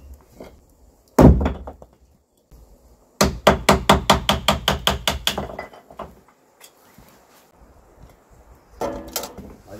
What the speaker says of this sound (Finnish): Laitetaan vielä nämä puut tähän